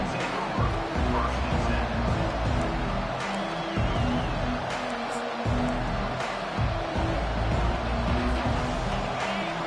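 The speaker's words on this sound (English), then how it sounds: "listen to the roar of this crowd" A football stadium crowd at an Alabama game roars steadily throughout, a dense continuous wall of hubbub with a few surges, while a commentator talks over it.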